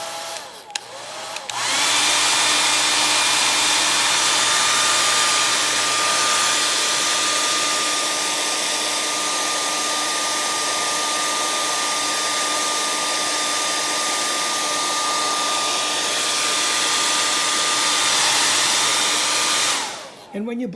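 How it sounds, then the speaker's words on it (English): A handheld blow dryer switched on to dry acrylic paint on a textured surface, a loud, close, steady whirring hum with a constant whine, running for about eighteen seconds before clicking off. "So here's where the blow dryer comes in handy."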